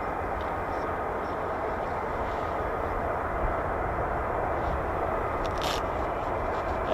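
An F-15 fighter jet with twin Pratt & Whitney F100-229 engines at RAF Lakenheath gives a steady, loud broadband engine roar that holds evenly for the whole stretch, with faint clicks on top.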